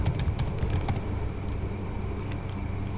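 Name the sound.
typing and pressing Enter on a computer keyboard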